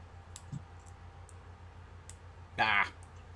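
Single sharp computer mouse click during Unity editing work, short and fairly close, over a quiet room with faint background hum.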